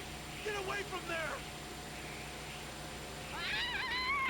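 A cat in the video game Yakuza: Like a Dragon meows twice, a short run of wavering mews early on and a longer, louder yowl at the end, over quiet game background.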